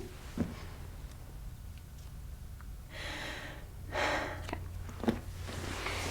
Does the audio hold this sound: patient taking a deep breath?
yes